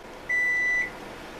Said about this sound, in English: I'm going to put it in the oven and set the timer for, let's do 20 more minutes